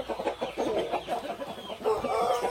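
Kampung roosters and hens cluck continuously inside a coop, a close, busy run of short calls with no pauses.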